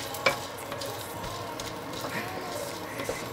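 Edible gum (gond) frying and puffing in hot ghee, a steady close bubbling sizzle with small pops throughout.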